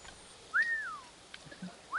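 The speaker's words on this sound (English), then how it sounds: "I don't mean to whistle" A person whistles two short rising-and-falling notes, one longer glide and then a brief second one, fairly clear against quiet background noise.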